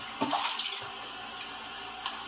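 Running water rinses a whetstone used to sharpen a vintage 14-inch Ontario chef knife, a steady splashing flow close by with a couple of brief clatters.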